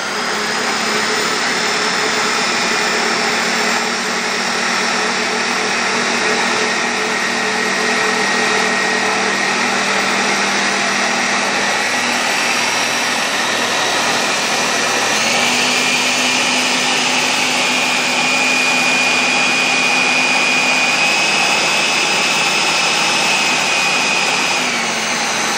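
A blender whirring loudly and continuously as it purees a hemp shake, a steady high motor drone that shifts pitch midway as the load changes, with no talking.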